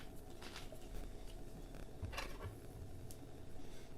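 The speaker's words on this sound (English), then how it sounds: "you just put your spoon in there and give it a little mix" A spoon stirs a Yakult and soju cocktail topped with soda in a glass, giving a few faint clinks and light scraping against the glass over a steady low background, with no talking.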